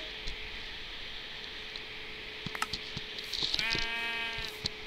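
Sheep bleat in the Minecraft video game: a short, wavering bleat near the end, over a faint steady hum and a few soft clicks, with no talking.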